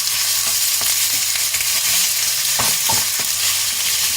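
Chicken pieces searing in a hot oiled pan for a garam masala dish, a steady loud sizzle and frying crackle throughout with a few sharper spatters and stirring scrapes, no voices.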